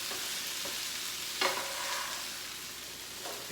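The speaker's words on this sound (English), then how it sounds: "As you see those hash browns start to kind of brown, you're going to want to flip them." Hash browns fry in a pan with a steady close sizzle and crackle, and a brief scrape of stirring midway.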